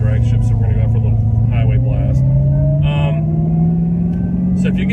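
A Dodge Demon's deep engine drones loudly and rises steadily as it accelerates on a highway run, a heavy low rumble throughout, with someone talking over it.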